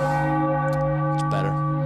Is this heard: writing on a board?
no